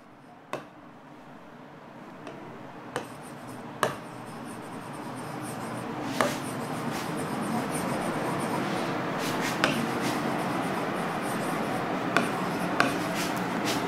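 Steady scratching of a pen or marker writing out a maths problem on a board during a class, with soft continuous strokes broken by sharp taps and clicks at irregular intervals, close and clear with no talking.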